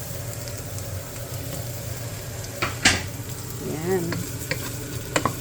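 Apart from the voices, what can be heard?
ground pork browning in a pan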